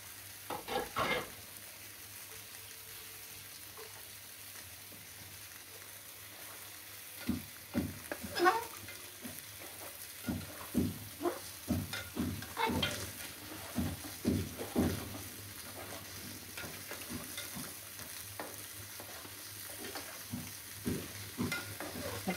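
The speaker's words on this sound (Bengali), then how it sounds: "এখন আমি কাঁচা মরিচগুলো দিয়ে দেব।" Green chilies fry in a pan, giving a steady sizzle broken by a run of sharp crackling pops and stirring scrapes through the second half, fairly close and alone.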